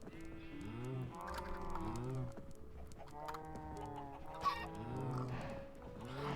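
Minecraft chickens and farm animals clucking repeatedly in a steady, overlapping chorus throughout, with a few cattle-like lowing calls mixed in, fairly close and moderately loud with no talk.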